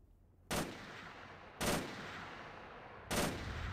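Three loud, sharp bursts of machine gun fire from the video game New Arsenal, spaced about a second apart, each a close, hard report with a short ringing tail over a steady low background.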